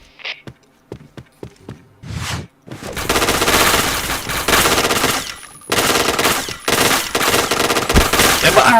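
Gunfire in the shooter game Point Blank starts with a few scattered single shots and clicks, then bursts into long, loud automatic volleys close by with brief gaps between them.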